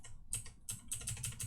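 Rapid clicks of computer keyboard arrow keys pressed during play of a game on an old Phenom II X4 940 PC, a quick irregular run of close, crisp taps with no talk.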